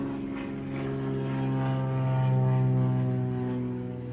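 Propeller airplanes flying overhead on a clear day, a sustained droning engine hum with strong tonal harmonics that swells and fades gently as it passes, no speech.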